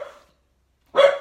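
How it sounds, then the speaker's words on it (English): Dogs give two sharp, loud barks close by, a shorter one at the start and a fuller bark after a brief silence. "sorry, those are my dogs"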